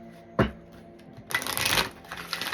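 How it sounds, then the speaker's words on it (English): Dice are rolled: a single sharp clack, a short lull, then a longer bright rattle as they tumble and settle, heard close and alone. "I'm going to roll the dice"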